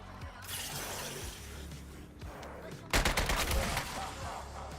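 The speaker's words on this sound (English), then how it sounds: "Look how strong this assault rifle is." Assault rifle fire in the video game Suicide Squad Kill the Justice League, heard as a dense burst of rapid rattling shots, with a strong clustered volley near the middle, over steady game background noise.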